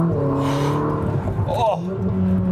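A Ferrari sports car engine accelerates hard on a road test drive, a loud, steady engine drone with rising harmonics and a brief chirp partway through, heard from inside the cabin while the driver talks over it.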